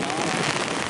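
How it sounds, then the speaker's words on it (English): Intense rain pouring down at a cricket ground, a dense, continuous hiss of drops hitting surfaces, loud and close throughout. "The rain is too intense right now."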